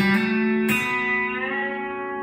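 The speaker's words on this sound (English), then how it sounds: "So it's open B string, bender up." A B-bender electric guitar rings out as the open B string is picked and bent upward, a bright sustained chord with a second pick attack partway through, sounding close and clear with no voices.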